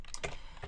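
Fingers typing on a computer keyboard while names are entered into code, a quick run of light, close key clicks with no talking.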